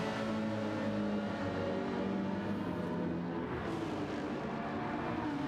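A Lamborghini race car in a racing video game screams down the straight at the 6 Hours of Monza, a steady, loud, continuous engine drone at high revs with no talk over it.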